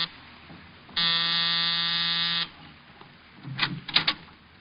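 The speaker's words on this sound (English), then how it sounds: "I was punching the buzzer to Saxon's apartment." An apartment door buzzer sounds once, a loud steady electric drone lasting about a second and a half, followed by faint shuffling and knocks.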